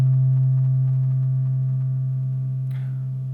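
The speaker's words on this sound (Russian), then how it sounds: "Давайте послушаем, как будет звучать звук, который представлен на этом графике," A steady, pure synthesized tone standing in for a string vibrating as a whole, held alone and slowly fading, with a brief faint click near the end.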